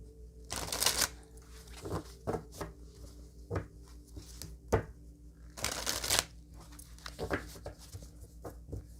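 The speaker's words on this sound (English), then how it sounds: "Let's pull a couple cards on that revenge card." Tarot cards being shuffled and pulled from the deck, with brisk riffling bursts and softer taps and slides in between, close and clear and with no talking.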